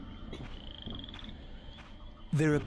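A frog croaks in the video game Soul Reaver 2, a short harsh croak at the end over quieter game ambience with a faint high tone earlier, close and distinct.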